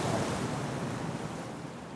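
Ocean surf washes onto the shore under steady wind buffeting the microphone, a broad continuous roar that slowly eases over two seconds.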